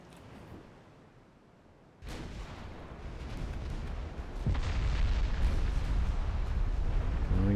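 Naval artillery fire in Ultimate Admiral Dreadnoughts, a battleship engagement in a 1908 French campaign in the Caribbean: a loud broadband boom hits, then a second blast lands on top, leaving a sustained rumbling roar.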